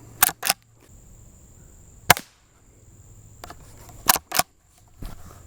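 A Rossi Rio Bravo rifle fires a handful of sharp, dry cracks, some in quick pairs and others single, spaced by short pauses and heard up close outdoors.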